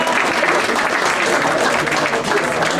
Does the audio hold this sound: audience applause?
yes